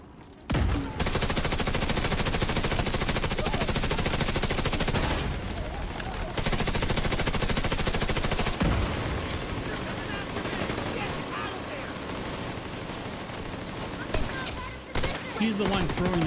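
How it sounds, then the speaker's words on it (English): A video game minigun firing in long, continuous, loud rapid bursts, with only brief gaps between sustained streams of fire. "Let's take the minigun!"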